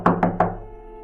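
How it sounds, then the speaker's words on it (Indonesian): Three sharp knocks on a front door land in a quick, even rhythm, close and distinct, each trailing off into a brief hollow resonance before silence. "suara ketukan pintu dari arah pintu depan"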